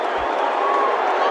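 A Gabba crowd at an AFL match between Brisbane and St Kilda hoots and cheers after a goal, a dense, loud, continuous roar of many voices that fills the whole moment.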